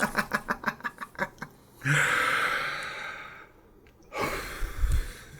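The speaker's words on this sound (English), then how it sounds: "first, you're going to start off by exhaling everything" A person doing a breathing exercise, close up: a run of about nine short, rhythmic puffs of breath, then a long, forceful exhale that empties the lungs, and after a brief pause another loud breath.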